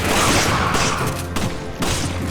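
Shotgun blasts boom in Resident Evil 5, several loud gunshots stacked in a dense, continuous barrage with a few sharp peaks and no pauses.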